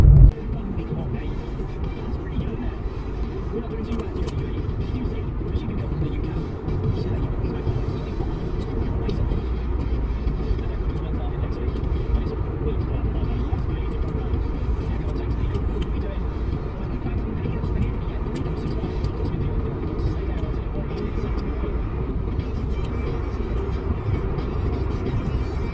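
A car drives along for the full stretch, a steady low engine and road drone without breaks, heard from inside the cabin at an even, moderate loudness.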